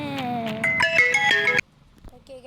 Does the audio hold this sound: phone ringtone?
yes